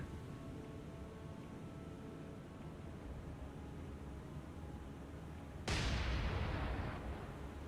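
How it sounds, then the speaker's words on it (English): Torpedo tubes fire in the naval game War on the Sea, a sudden loud burst of hissing rush that cuts in after a long low hum and slowly fades. "Torpedo tubes, fire."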